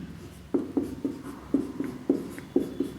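Chalk or marker writing on a board during a lecture, a run of short regular taps and strokes, fairly close and alone over a faint room hum.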